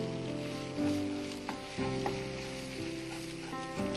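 Milk and semolina sizzle steadily while roasting in ghee, a dense continuous frying hiss with occasional stirring scrapes, close and fairly loud with no talking.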